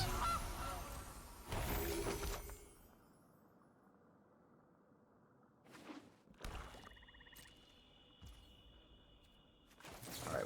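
A goose honks from a Magic Arena digital card game during play, a loud burst of honking calls near the start followed by quieter stretches and a few short game effect sounds.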